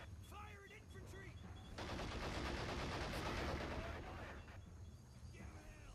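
Bursts of gunfire and machine-gun rattle from the WWII strategy game Men of War: Assault Squad 2, a dense sustained volley in the middle with sparser shots around it and faint voices at the edges.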